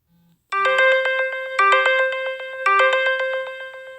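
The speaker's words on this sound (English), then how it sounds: "So this notification to the top of my phone is in the 360 Dash Ride app" A phone notification from the 360 Dash Ride rideshare app plays a bright chiming tone repeated three times in an even rhythm, loud and close, after a brief soft beep.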